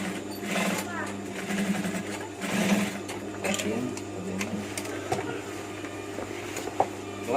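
Sewing machine stitching a batik combination shirt, its motor running in steady whirring bursts close by while someone talks over it.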